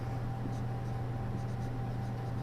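Pen or marker writing on a surface during an anatomy lesson about nerves, a steady scratchy stroke sound close up, with a constant electrical hum beneath and no talking.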